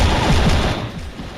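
Rapid gunfire in the Mini Militia mobile shooter, a loud burst of fast machine-gun shots up close that tapers off into a quieter rattle.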